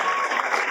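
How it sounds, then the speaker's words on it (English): Loud, sustained applause from a crowd at a school awards ceremony, a dense continuous patter of clapping filling the whole moment without a break. "I expect a loud applause from the crowd"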